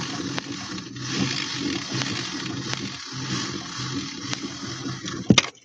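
Continuous water trickle and spray from a drip system on a lapidary carving machine while fire agate is polished, steady and close with a few sharp clicks near the end.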